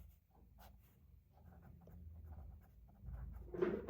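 A pen writes on paper during a Hindi exam lesson, faint soft scratching strokes that grow a little louder and busier toward the end, close and quiet with no speech.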